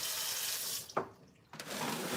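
Hot water gushes from a tap into a sink as melted chocolate is rinsed off, a steady bright hiss that briefly drops away to near silence before surging back strongly.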